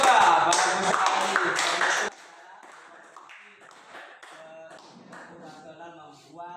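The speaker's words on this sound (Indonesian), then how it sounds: "kasih aplaus untuk kelompok 2" A class gives a group of students a short burst of applause, loud dense clapping for about two seconds that then stops abruptly, followed by quiet room sounds and faint voices.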